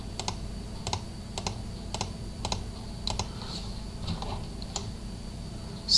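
Computer mouse clicks from selecting with Photoshop's quick selection tool come in sharp, light pairs and singles at a steady pace, close and quiet over a faint room hum, with no talking.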